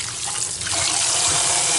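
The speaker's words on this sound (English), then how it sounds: "We're just going to kind of let the water run." Tap water runs steadily over cubed potatoes in a bowl in a home kitchen, a continuous close rushing splash that stays loud throughout, with no talking.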